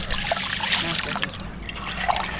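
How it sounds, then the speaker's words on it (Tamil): Water runs and trickles while a large fish is washed, a close, continuous splashing dribble with uneven bursts, no clear speech over it. "இப்போ நம்ம இந்த மீனை கழுவணும்"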